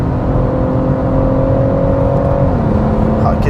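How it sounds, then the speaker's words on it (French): Inline-six engine of a BMW M140i howling steadily at high revs on the Nürburgring at speed, a continuous loud drone with the pitch holding then dipping slightly near the end as it shifts. "c'est un 40i qui fait une super sonorité"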